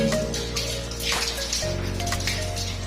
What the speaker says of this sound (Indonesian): Kemudian cuci dengan air yang mengalir hingga bersih.